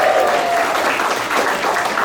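A comedy club audience at the Irvine Improv applauds a married couple, steady dense clapping that fills the room and stays loud throughout.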